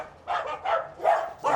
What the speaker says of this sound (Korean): 지금 보면 누가 더 많이 짖어요?